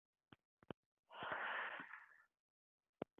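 A single long, forceful breathy exhale during a pilates mat exercise, about a second long, bracketed by a few faint taps or clicks before and after.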